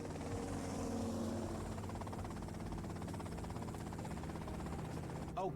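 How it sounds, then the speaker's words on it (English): Helicopter rotor and engine drone from a Grand Theft Auto Vice City cutscene, a steady loud continuous whir that holds throughout. "that's them in the chopper"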